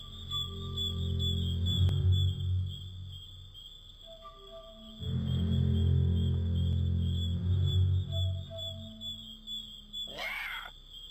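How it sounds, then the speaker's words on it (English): Boar sound effect in the PC adventure game Broken Sword II: The Smoking Mirror, a low droning, tonal growl in two sustained bursts, with a brief high squeal at the end. "That sound effect is definitely half of a death scream from a chrysalid"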